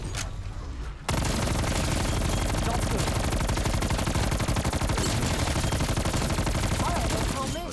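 Sustained, dense automatic gunfire in Call of Duty Zombies on the Die Maschine map erupts after a brief quiet moment and roars on nonstop, loud and close.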